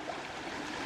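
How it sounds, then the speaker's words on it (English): A forest trail stream pours over rocks in a steady, close rush of water, broad and unbroken for a moment with no voices. "occasionally you come across rocks and streams like this one over here"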